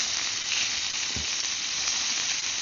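A thick steak, just flipped, sizzles on a Firebox stove during cold winter cooking. The hiss is steady, dense and unbroken, with no talking.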